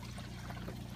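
An air pump keeps water moving in a 55-gallon African cichlid tank, giving a low, steady bubbling trickle with a constant hum underneath, heard up close and alone for a brief moment.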